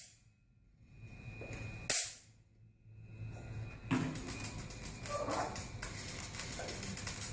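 A single sharp electric spark discharge, a sudden loud snap that stands out against a quiet room, followed by low rustling and handling noise.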